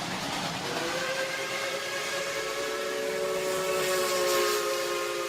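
A steam train whistle rings out as a sustained, steady multi-tone blast for about five seconds over a bed of hissing steam, loud and close with no voices.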